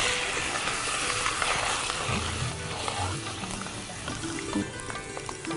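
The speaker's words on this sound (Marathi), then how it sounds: "शेंगदाणे चांगले तळून घ्यायचे" Peanuts fry in hot oil with cumin and ajwain, giving a continuous close crackling sizzle with a few faint voices in the background.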